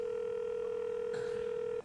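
A telephone dial tone holds steady and loud for nearly two seconds as a call is being placed, cutting off abruptly at the end, with a faint click or key press partway through.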